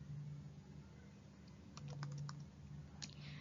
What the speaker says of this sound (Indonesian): Lalu kita akan hapus dengan mengetik clear make address table.